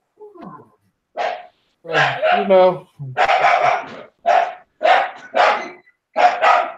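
A dog barks in repeated sharp bursts, about seven evenly spaced barks close by, with a brief spoken phrase near the start.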